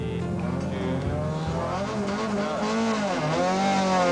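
Rally cars race through the town streets of Sabi on a 1 km spectator stage during the 1995 Sasol Rally, engines roaring loud and close with rising and falling revs and tyre squeal, continuous throughout.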